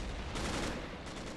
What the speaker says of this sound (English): Ooh, that's a PPSH, right?